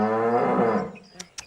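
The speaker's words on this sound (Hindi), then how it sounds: "यो भैंसा तेरे मेहमान का मेहमान है" A male buffalo lets out one long, loud, close moo that fades after about a second, followed by two brief sharp clicks.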